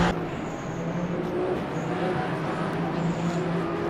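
Race cars in the Le Mans Ultimate racing game circle the Bahrain circuit during an 8-hour endurance event, a steady dense engine roar with no talk as a Cadillac spins ahead.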